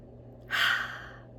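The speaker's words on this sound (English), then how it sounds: "Let's do one more deep breath in" One deep inhale taken close to the microphone, a breathy rush that rises quickly and fades over about half a second against a low steady hum.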